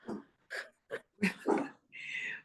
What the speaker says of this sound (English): my pet decides that she wants to bark